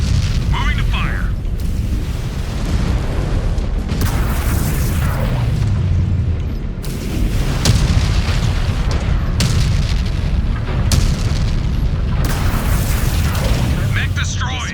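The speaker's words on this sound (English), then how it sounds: "Mech destroyed." Mechs being blown apart in MechWarrior 5: Clans, Ghost Bear DLC: loud, deep booms and crackling blasts strike repeatedly over a rumbling battlefield, with voices speaking between hits.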